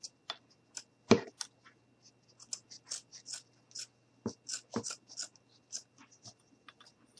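Scissors snipping through craft material for a pumpkin gnome, a series of crisp close cuts and clicks in an irregular rhythm, with one louder snip early and quiet pauses between.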